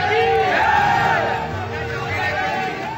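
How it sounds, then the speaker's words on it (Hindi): A protest crowd chants 'Bharat Mata ki Jai' slogans, a loud massed roar of many voices shouting together close by, sustained for a few seconds. "पीछे से भारत माता की जय के नारे लग"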